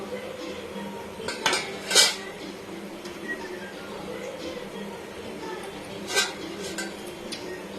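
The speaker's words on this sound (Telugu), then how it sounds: "ఇలా కదుపుతూ మనం డీప్ ఫ్రై చేసుకోవాలి ఫ్రెండ్స్" A utensil stirs gulab jamun balls deep frying in a pan of oil, giving soft scrapes and a few metallic clinks against the pan over a steady background hiss, with a voice talking intermittently.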